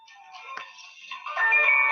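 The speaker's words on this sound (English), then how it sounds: "I had a phone call." A phone ringtone from an incoming call plays as a short electronic melody of bright tones, growing louder and more sustained toward the end, close by with no talking.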